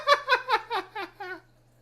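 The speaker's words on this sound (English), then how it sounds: "What you want, silly cat?" A house cat meows in six short, wavering calls in quick succession, close and fairly loud, each a little lower than the last, with a faint steady hum underneath.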